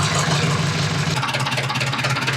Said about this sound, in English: All I know is that it runs superb for a tractor this old